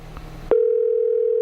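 A telephone line: a brief click, then a steady, loud, unbroken tone holding on alone once the call is placed.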